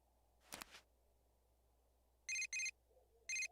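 Message notification chime from the Persona 4 Golden video game, sounding as three short, bright electronic tone bursts in quick succession, preceded by a brief soft rustle.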